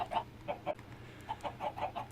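Chickens in the video game Minecraft (FTB SkyFactory 3) clucking in a steady run of short, repeated clucks over a low background hum, moderately loud with no talk.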